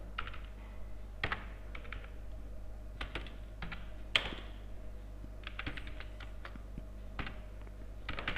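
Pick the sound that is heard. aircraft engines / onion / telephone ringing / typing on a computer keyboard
typing on a computer keyboard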